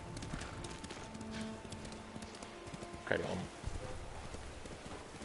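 Horse hooves clip-clop at a steady walking rhythm in the Ghost of Tsushima game, moderately close, under someone talking casually, with a brief louder burst partway through.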